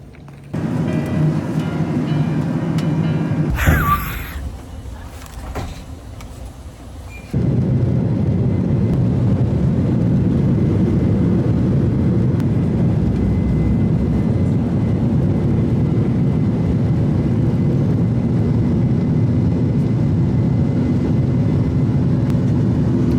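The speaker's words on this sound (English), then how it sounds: "Oh my God, look at the plane." A loud, continuous jet roar of an airplane at an airport, briefly shifting to a harsher, noisier rush for a few seconds early on before settling back into a steady, heavy drone.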